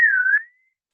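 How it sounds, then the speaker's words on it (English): One person gives a single short catcall-style whistle, a clear, fairly loud tone that dips slightly and then rises before fading out within half a second, followed by silence. "It's that whistle that men do."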